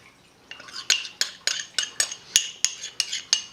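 A utensil stirs yeast into Cantonese steamed rice cake batter in a bowl, making about a dozen bright, evenly spaced clinks against the side, close and clear with no talk.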